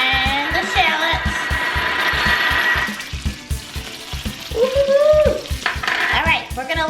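Pancetta and shallots frying in a pan for mushroom risotto, a steady sizzle with repeated rhythmic scraping of a utensil stirring against the pan, loud and close, with brief clinks.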